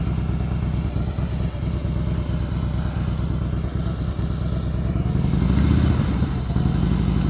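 A motorcycle engine chugs steadily up close during slow-speed riding practice, a loud, even low-rpm thrum that lifts slightly as the throttle opens near the end.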